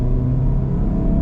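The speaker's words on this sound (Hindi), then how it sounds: "इसको हमें थोड़ी सी रेस दे के चेक करते हैं" A Honda City or Toyota Yaris sedan engine runs with a close, loud, steady low rumble and throaty hum, held evenly for a brief moment without any voices.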